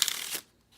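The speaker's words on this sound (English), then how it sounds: "you shuffle up the cards, maintaining that that joker on top." A deck of playing cards being shuffled for a card trick, one short riffling burst close up that stops abruptly, then quiet.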